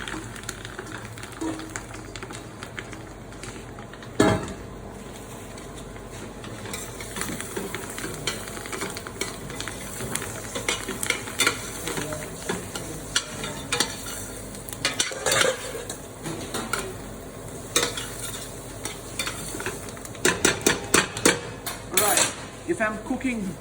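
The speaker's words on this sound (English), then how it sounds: "I'm going to start cooking the mushroom and the rest in the oil" Mushrooms cook in oil and butter infused with thyme, giving a steady close sizzle and frying hiss, with frequent stirring scrapes and utensil clacks on the pan throughout.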